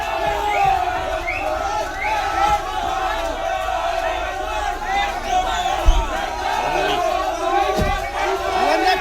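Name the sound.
protesting crowd chanting "thief, thief" slogans outside court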